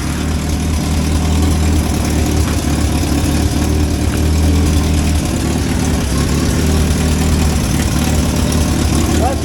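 A 1963 Hillman Super Minx engine, freshly fitted with a new fuel pump and cooling system, runs at a steady, loud idle throughout, a continuous low rumble with faint talk underneath.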